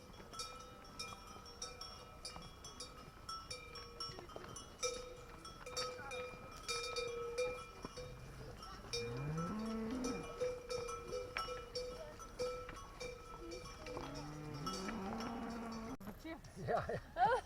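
Cattle with cowbells driven up to alpine pasture, many bells clanking irregularly at mid distance while animals bleat and low, with people's voices calling among the herd.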